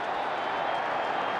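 A football stadium crowd at a Giants–Redskins NFL game roars in a steady, dense wash of cheering and applause that fills the whole moment without a break.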